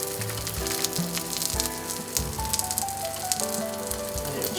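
A tuna melt sandwich layered with Monterey Jack and Swiss cheese grilling on a hot surface, crackling and sizzling steadily with bursts of popping, close up and loud, with no one talking.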